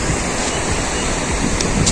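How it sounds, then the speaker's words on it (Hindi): A river in the Kaghan Valley flows as a loud, steady broadband rush of water, close and continuous, with no voices. "दरिया यहाँ पे आप देख सकते हैं बह रहा है"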